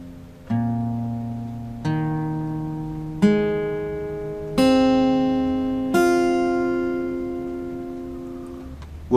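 An acoustic guitar in standard tuning with a capo at the first fret rings out single strummed strings one after another, each left to decay, clear and close with no talking.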